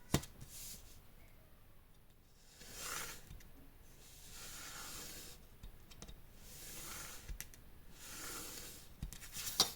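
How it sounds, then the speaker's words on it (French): Paper being creased along measured fold lines for a handmade mini album, with repeated soft rubbing and scraping strokes in slow bursts, close and quiet with occasional small clicks. "je commence déjà à marquer mes plis"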